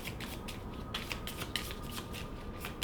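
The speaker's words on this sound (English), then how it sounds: "we shuffle up his hit location deck" A hit location card deck for the Kingdom Death: Monster board game is shuffled by hand, producing a quick run of soft, rhythmic papery riffles and flicks, close and clear with no talking.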